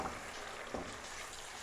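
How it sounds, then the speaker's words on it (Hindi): Chicken karahi with whisked yogurt frying in a pan, a soft continuous sizzle with a light spatter burst near the start and another just before the midpoint, quiet and close. "इसको मैं अभी भूनती जा रही हूँ पानी का छींटा दे दे के"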